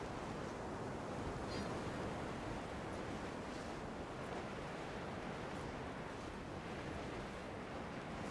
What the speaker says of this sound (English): Yo, is that the ocean?